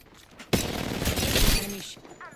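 Rapid video-game gunfire in Apex Legends, a burst of dense automatic shots starting abruptly and rattling for about a second and a half before cutting off, loud and close, with brief game sounds around it.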